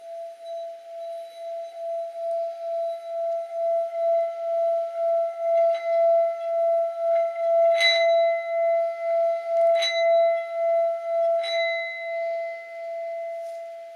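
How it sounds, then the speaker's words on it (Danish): A singing bowl's rim is rubbed slowly, building a sustained ringing tone that swells and pulses steadily, with a few brighter chimes rising above the hum. "God fornøjelse med vores syngende skål."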